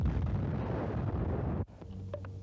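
A World War 2 mortar shell explosion, a loud sustained roaring blast with heavy low rumble lasting over a second and a half, then cutting off abruptly into faint lingering debris and background noise.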